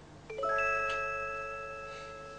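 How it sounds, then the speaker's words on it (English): Bright chime rings once, its several tones struck in quick succession and then left to ring out and slowly fade, heard alone in a quiet room. "There's a chime coming."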